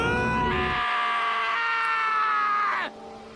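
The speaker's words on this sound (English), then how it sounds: "I heard screaming." Sustained high-pitched scream from a character in the video game Danganronpa: Trigger Happy Havoc, loud and steady for about two and a half seconds before breaking off abruptly.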